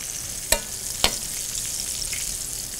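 Chicken pan-frying in a shallow layer of oil gives a steady close sizzle throughout, with two sharp spits or pops from the pan early on.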